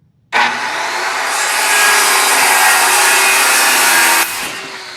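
A power saw cuts straight through a wooden cornhole board in one loud, continuous, steady pass of roughly four seconds, starting abruptly and dropping away at the end.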